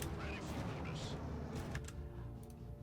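Bombs going off in the strategy game Grit & Valor 1949: a muffled cluster of explosive booms and blasts amid game noise, with someone talking over parts of it.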